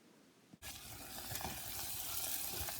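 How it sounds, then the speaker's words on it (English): Butter and brown sugar in a pot on a stove at medium-high heat, starting with a sharp clatter and then a steady, rising sizzle with faint scraping from constant stirring. "Place your pot with the brown sugar and butter onto the stove, stirring constantly"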